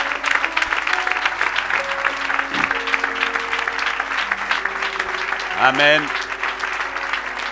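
A church congregation applauds and cheers in a steady, dense burst of clapping, with voices calling out and a speaker talking over the crowd.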